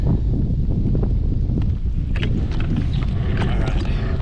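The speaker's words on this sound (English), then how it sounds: "Man, this wind is picking up." Strong wind gusting across a lake during a fall bass fishing trip, buffeting the microphone in a loud, steady low rumble with faint splashing and knocks underneath.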